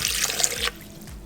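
Water pours in a steady broad rush into a blender for a banana and frozen berry smoothie with coconut milk, stopping abruptly partway through and leaving low thumps and faint trickles.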